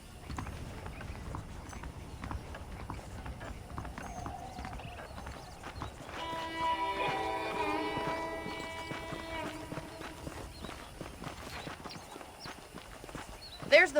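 Horse hooves clip-clop at a steady walking pace in the Western video game Red Dead Redemption on PC, with a horse neighing midway and spoken voices and game ambience around the steps.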